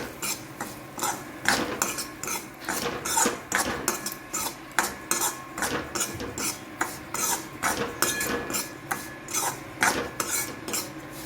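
Semolina stirred into oil in a pan with a metal spoon for Gujarati gugra, a rhythmic scraping and rubbing repeated in steady strokes, close and fairly loud with no talk.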